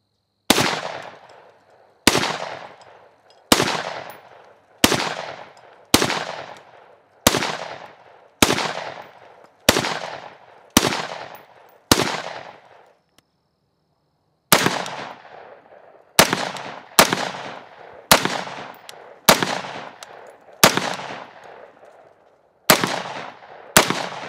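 Tavor rifle fitted with a Geissele Super Sabra trigger fires about eighteen loud, sharp single shots in a steady paced rhythm, each followed by a short echoing decay, with one brief pause partway through.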